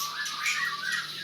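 A caged songbird calls with a continuous harsh, chattering squawk, close and fairly loud, over a steady faint low hum, with no voices.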